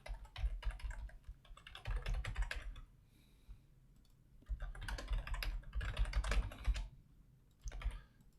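Someone types an email on a computer keyboard in bursts of quick, close key clicks, separated by a couple of short pauses, with no talking.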